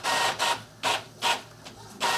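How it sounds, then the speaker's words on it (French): An Epson EcoTank ET-3750 inkjet printer runs a print job over a network, giving off loud, regular whirring bursts as the carriage sweeps back and forth, about five passes in quick rhythm. "Et voilà, donc l'article en train de sortir page à page."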